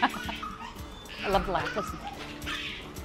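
A dog yips, barks and whimpers in short excited bursts close by, its cries rising and falling while people talk over it.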